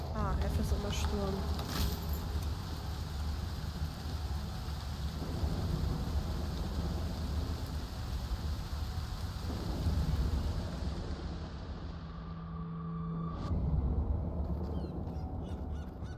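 Thunder rumbles and rain pours throughout a stormy scene in a video game, a steady wash of downpour with deep rolling booms, interrupted by a few sharp cracks and tonal effects near the end.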